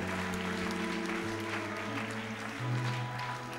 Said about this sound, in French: Acclamons très fortement pour le Seigneur.